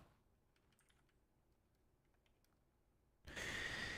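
Quiet computer keyboard typing with scattered soft key clicks in an irregular rhythm, heard alone with no voices, followed near the end by a sudden loud burst of broadband noise.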